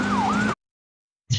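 An ambulance siren wails at a protest in the West Bank, a short rising-and-falling tone over a low hum that cuts off abruptly, followed by a brief burst of noise.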